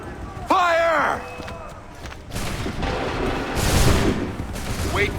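Musket volley fired by redcoat-style soldiers in Assassin's Creed III, a broad rolling burst of gunfire rumbling through the middle and end of the clip after a shouted command, with battlefield noise underneath.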